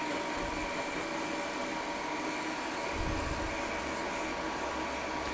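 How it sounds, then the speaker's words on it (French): Cooling fans of a Castolin OHM 2.4 hydrogen welding machine whirring steadily and close by, a broad constant rush with a low hum that swells slightly partway through, no talk over it. "là on entend les ventilateurs de la machine qui se mettent à tourner uniquement quand on a besoin de notre gaz"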